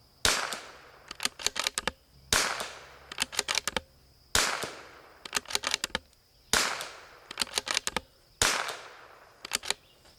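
A Bergara B14R rifle fires five sharp, loud reports spaced about two seconds apart, each followed by a quick cluster of crisp clicks and echoes, with no talk over them.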